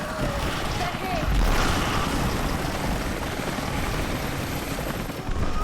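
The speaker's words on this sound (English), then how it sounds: "Those choppers should be in range soon." Helicopters arrive in Rise of the Tomb Raider with a loud, steady rotor and engine roar that fills the scene, while voices talk over it.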